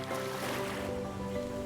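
Atlantic Ocean waves washing below the Cliffs of Moher, a steady broad surf roar with wind, continuous, overlaid with sustained background music tones.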